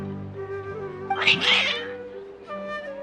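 Cats meow and yowl insistently in a video game (Genshin Impact), one cry rising into a loud, strained caterwaul before trailing off into softer meows.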